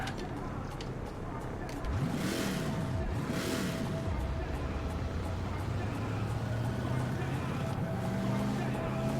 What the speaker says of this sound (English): I can't believe the rev you can get out of this thing in 6th.